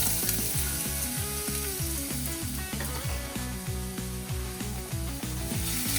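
Garlic fries in hot oil in a pan with a dense, crackling sizzle that runs continuously and fairly loud, with no one talking.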